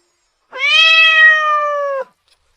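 A single clear, drawn-out cat meow lasting about a second and a half, loud and close against near silence.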